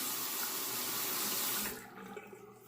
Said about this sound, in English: Let me wet the razor here.